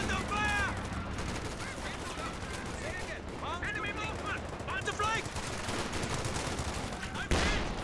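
Gunfire in a Company of Heroes 2 battle, with a Panzer IV and infantry fighting: dense, continuous small-arms and machine-gun bursts under a steady battle din, with speech heard over the top.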